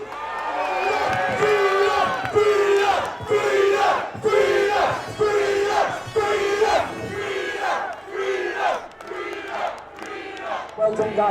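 A crowd at an anti-lockdown street protest in Birmingham shouts and cheers in rhythmic repeated bursts, loud and close, chanting together in waves.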